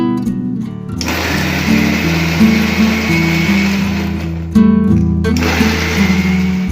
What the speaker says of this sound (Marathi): आता हे सर्व मिश्रण आहे ते आपण एकत्र करून मिक्सरमधून दळून घेऊया